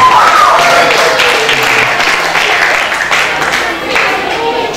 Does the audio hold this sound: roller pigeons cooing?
no